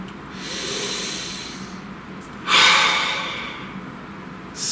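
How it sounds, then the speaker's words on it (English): Close, audible breathing: a slow breath drawn in and let out, then a sharper, louder inhale through the nose, followed by another brief intake at the end, heard alone. "Take a nice deep breath."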